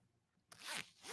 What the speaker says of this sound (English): And this is a sweater with a zipper.